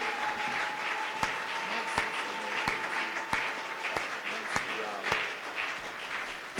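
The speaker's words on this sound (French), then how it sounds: "Est-ce que maintenant on peut acclamer très fort le Seigneur?" Church congregation applauding and cheering for the Lord: a steady wash of clapping from a crowd, with sharp percussive hits at regular intervals and a sustained tone running underneath, voices mixed in.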